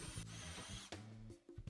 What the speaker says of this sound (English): drill out all the rows one at a time